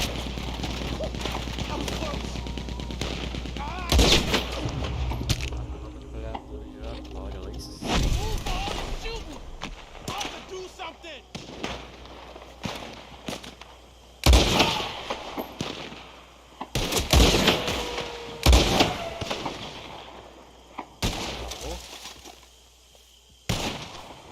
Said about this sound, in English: He's going for the Gatling. Look out, he's firing. Hell, that gun can shoot.